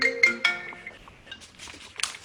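Cell phone ringtone chiming out a bright melodic tone sequence, a few separate rings over about two seconds, moderately loud in a room with faint background noise.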